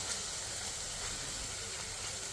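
Chicken fries in a little oil in a kadai, giving a steady, fairly close sizzling hiss that stays even for the couple of seconds heard, with no talking.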